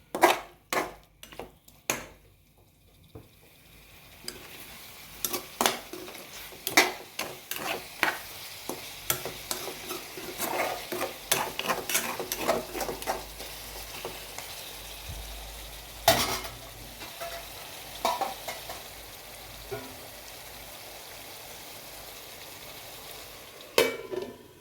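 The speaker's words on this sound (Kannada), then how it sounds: "ಈ ಮಸಾಲೆ ಜೊತೆಗೆ ಈ ಟೊಮೆಟೊ ಈರುಳ್ಳಿ ಮತ್ತು ಈ ಮಸಾಲೆ ಜೊತೆಗೆ ಒಂದು 5 ನಿಮಿಷ ಚೆನ್ನಾಗಿ ನಾವು ಕೈ ಆಡಿಸ್ಬೇಕು" Chicken frying with tomato, onion and masala in a pan, stirred with a utensil: soft continuous sizzle under repeated scraping and clinking strokes against the pan, closely recorded with no talking.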